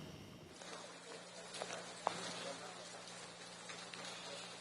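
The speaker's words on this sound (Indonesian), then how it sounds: "Ini cuacanya masih turun hujan" Steady rain falls during bad weather in Cisarua, Bandung, a continuous soft hiss with occasional distinct drips and taps, with a low hum underneath.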